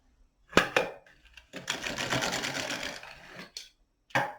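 An LK 150 knitting machine carriage with the LE W weaving attachment is pushed across the needle bed, with sharp clacks at the start, a sustained whirring mechanical rattle in the middle, then a few closing clicks.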